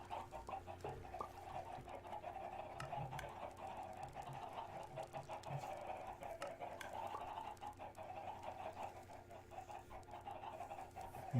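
Chickens on a Minecraft chicken farm clucking steadily over a continuous busy hum of game activity, soft repeated pops and clucks running throughout without pause.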